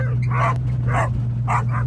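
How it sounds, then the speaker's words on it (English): Guard dogs on a Mennonite ranch in Belize barking close and loud, three sharp barks in quick succession over a steady low engine hum. "Because these are guard dogs."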